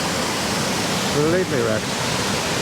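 A river swollen after Storm Karen rushes through Tollymore Forest Park near a bridge, making a dense, steady roar of water throughout, with someone briefly speaking over it.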